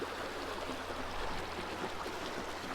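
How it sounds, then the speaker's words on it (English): Fast, deep stream water rushes steadily past in an outdoor canyon, a dense continuous hiss and churn at moderate level with no breaks or voices. "The water is getting deep and fast."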